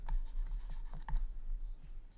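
A pen scratches across paper while someone writes out a step of an integration solution, a close, steady run of short strokes and light ticks over a low background hum.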